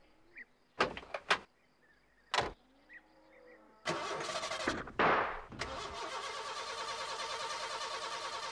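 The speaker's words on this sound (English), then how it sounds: "She won't start, Ted." A van engine in a children's cartoon grinds on the starter in short bursts and then a longer stretch of cranking that never catches, with a door-like clunk between attempts, fairly close.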